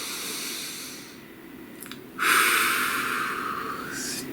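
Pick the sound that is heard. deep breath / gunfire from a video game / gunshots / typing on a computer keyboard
deep breath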